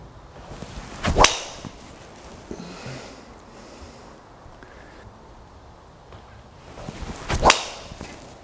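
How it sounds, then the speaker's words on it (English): Two sharp driver strikes on a golf ball with a TaylorMade M3 driver, each a crisp, loud impact crack spaced several seconds apart, with quiet outdoor ambience between them. "So there's a batch of shots hit with that M3 driver there"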